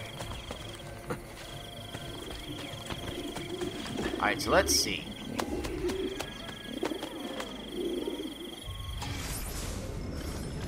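Pigeons coo near a pigeon coop in the video game Assassin's Creed: Brotherhood, soft murmuring bird calls under someone talking, with brief clatter and game ambience around them.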